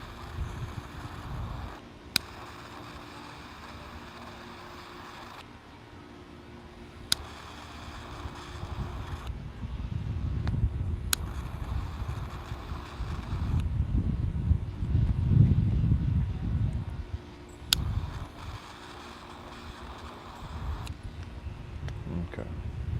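Gusty wind blowing outdoors, rumbling into the microphone in low, uneven surges that build toward the middle, with faint sharp clicks now and then.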